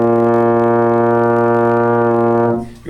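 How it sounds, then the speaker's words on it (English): A trombone sustains a steady low B flat in first position, one long rich held note with strong harmonics, close and loud, fading out at the end. "So the B flat is 1st position, and it's going to sound like this."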